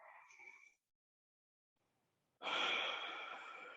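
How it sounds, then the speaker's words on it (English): A big, deep breath during a morning stretch: a short inhale, a pause of near silence, then a long, loud, breathy exhale that fades slowly, close and alone. "Take a nice big giant breath back into your body."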